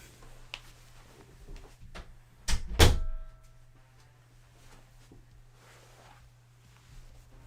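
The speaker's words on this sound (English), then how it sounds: "I'm going to close this door because I can actually hear Gemma's TV." A door is pushed shut with a sharp, fairly loud slam after a few soft movement sounds, with a quiet room hum before and after.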